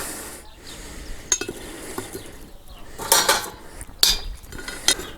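Charcoal briquettes set one by one onto the metal lid of a Dutch oven give a few sharp clinks and scrapes at irregular intervals over a low background, with no talking.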